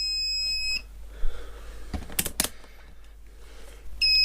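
A multimeter set to continuity buzzer range gives a sustained tonal beep, stops, then beeps again near the end, with a few sharp clicks of probes or handling in between and no talking.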